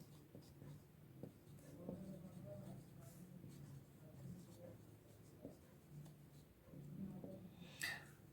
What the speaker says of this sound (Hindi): मैं इधर लिख देता हूँ